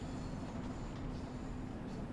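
A London Underground Bakerloo line train in Train Sim World rolls in with a steady, close rumbling drone and a faint high whine, continuous and even throughout.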